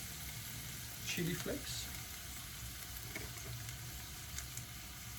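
Onions fry in a pan as a homemade pizza topping, a steady close sizzle with scraping stirs, while a person talks briefly over it.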